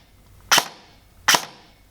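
Two sharp, crisp shots from an airsoft gun with a Gate Titan V3 MOSFET set to semi-auto, spaced under a second apart, close and loud against a quiet room.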